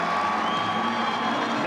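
Crowd at a 1997 high school football sectional final cheering and shouting, a steady, dense roar of many voices throughout without breaks.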